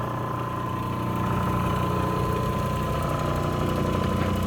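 A new Hans Lapidary 8x1x2 diamond Nova resin soft grinding wheel spins with a steady humming drone and rhythmic vibrating rattle, slightly louder after the first second, continuous with no talking.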